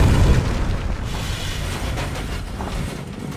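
A deep booming blast from an RPG rocket launcher firing and exploding in The Dark Knight, a heavy low rumble at the start that decays into a long rolling tail of debris and echo.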